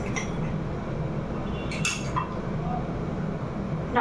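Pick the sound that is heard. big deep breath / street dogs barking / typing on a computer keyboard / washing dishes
washing dishes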